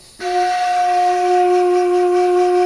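A homemade bamboo flute tuned to F-sharp major gives its first steady whistle, a clear sustained tone that starts abruptly and holds loud and alone with no pauses.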